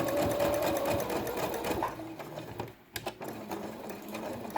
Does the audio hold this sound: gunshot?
no